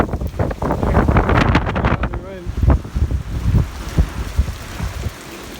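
Wind gusting outdoors on a farm near a barn, a steady loud rush with buffeting bursts against the microphone throughout.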